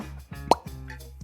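A Topo Chico glass bottle cap seal breaks open with a single sharp pop at the center, framed by soft low rustles of handling, close and quiet with no talking.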